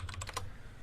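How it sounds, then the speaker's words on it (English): A few quick keystrokes tap on a computer keyboard at close range, a brief cluster of clicks that then falls into quiet room tone. "He's just typing in a note to the side"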